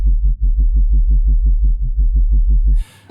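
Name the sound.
synthesized sub bass patch made in Native Instruments Massive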